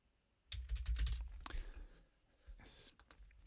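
Computer keyboard typing while coding, a short burst of soft quick keystrokes with a faint voice murmuring under and after the clicks, near and fairly quiet.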